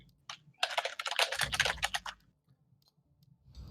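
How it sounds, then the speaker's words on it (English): Fingers type on a computer keyboard nearby, a quick burst of clustered key clicks followed by a pause and a few faint taps, with no voices. "Sorry for my typing"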